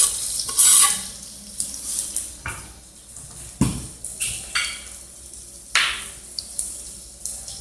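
Oil sizzles in a pan while chopped ingredients for Egyptian dawood basha kofta sauce are stirred in, giving repeated scraping strokes of a utensil against the pan over a steady frying hiss, close and clear.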